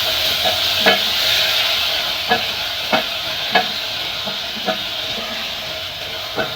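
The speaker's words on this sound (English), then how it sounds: "we are going to add in our tomatoes and then we leave them to cook for a while" Tomatoes cook in a pan for a pasta dish, giving a steady sizzle with soft periodic stirring clicks and scrapes, fairly close and continuous throughout with no voices.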